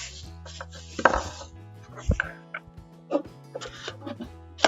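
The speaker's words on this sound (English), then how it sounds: "We're going to disassemble the tumbler." A PolySteel sublimation tumbler is taken apart from its packaging, giving a string of sharp plastic and metal clicks, taps and rattles with short gaps between them, close and fairly loud.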